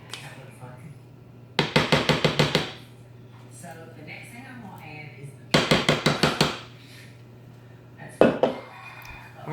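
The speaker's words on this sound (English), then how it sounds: "Now I'm going to clean out my bowl here in this last can." Metal spoon or spatula scraping and tapping banana nut cake batter out of a mixing bowl, with quick bursts of five or six rhythmic knocks, repeated twice and then a shorter burst, with someone talking in between.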